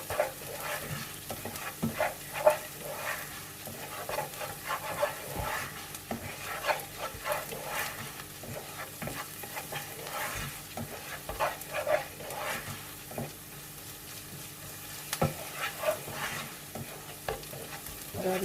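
Chopped fresh garlic fries in a pan for a chicken pie, with a continuous sizzle broken by repeated stirring scrapes and clicks of a utensil against the pan.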